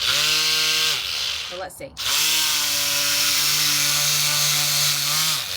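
Power sanding a freshly cast Jesmonite match box outdoors, a loud steady whining drone that cuts out briefly in the middle and resumes at the same pitch, with a short spoken remark in the gap.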